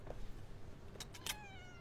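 A cat gives one drawn-out meow with a couple of short lead-in cries, nearby and fairly clear over a quiet background.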